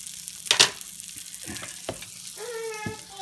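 A tortilla for a s'mores crunchwrap sizzles and crackles in a hot pan, with a couple of sharp clatters and a brief tonal squeak, close and fairly quiet, no voices.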